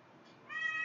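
A kitten gives a single short, rising meow up close, following a faint rustle, with no talking.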